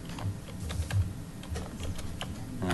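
Bursts of typing on a computer keyboard in a committee meeting room, irregular key clicks of moderate loudness over a dull background rumble.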